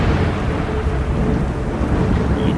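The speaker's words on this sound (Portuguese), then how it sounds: "Subitamente, um relâmpago forte, seguido de um trovão ensurdecedor" Rumbling thunder rolls over steady heavy rain in a stormy night scene for a horror tale, a dense, continuous low roar with no voices.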